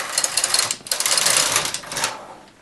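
Knitting machine knitting one row with loose tension, a loud, close rattling carriage sweep lasting a couple of seconds before fading out.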